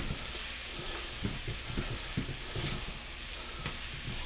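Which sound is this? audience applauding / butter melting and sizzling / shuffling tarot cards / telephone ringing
butter melting and sizzling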